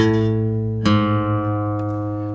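A guitar string plucked at the fifth fret rings out, then the open fifth string enters and both sustain together, slightly out of tune, the first note a little low, with no voices.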